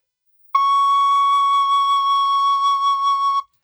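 A single C sharp held on a tin whistle, a clear steady pure tone that starts abruptly, sustains for about three seconds with slight wavering, then stops cleanly in a quiet room.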